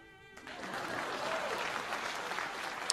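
Applause bursts in after a brief moment and continues steadily, a crowd clapping at moderate volume with a few louder claps near the end, during a Wildermyth game stream.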